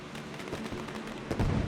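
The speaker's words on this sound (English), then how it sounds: "The fireworks are in his honor tonight." Fireworks burst in a sim racing game at Sebring International Raceway, celebrating the GT3 race winner: a dense crackle of scattered pops with a heavier, booming cluster near the end.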